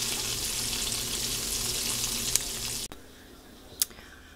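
Chicken fried steak sizzles in a pan of hot oil for a Southern homestyle dinner, a steady loud crackle that cuts off abruptly near the end, followed by a quieter pan with one brief clink.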